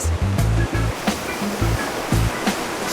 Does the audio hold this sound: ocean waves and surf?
yes